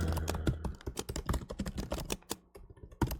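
Rapid, uneven clacking of keys on a computer keyboard during coding, close and fairly quiet, with bursts of keystrokes and a short pause near the end.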